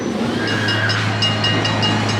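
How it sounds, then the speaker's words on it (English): A train at Walibi Holland amusement park rolls past nearby, a loud steady rumble with a faint hiss and a few soft rhythmic clicks from the wheels, no voices. "You even got a train."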